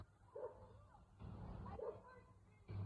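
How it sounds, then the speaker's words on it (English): Dogs barking in a neighbourhood on a warm afternoon walk, a few distant barks spread across the moment, heard faintly with soft background noise. "dogs are barking"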